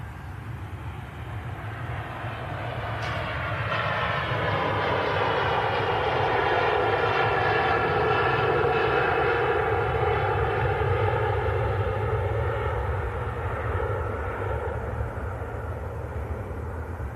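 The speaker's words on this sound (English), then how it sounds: "Awesome sound there from the Virgin Atlantic A330 300 series blasting off." A Virgin Atlantic Airbus A330-300 takes off on a cold runway at Manchester Airport, its engines swelling from a steady roar into a loud, sustained thunder that holds for many seconds with a rising whine layered on top.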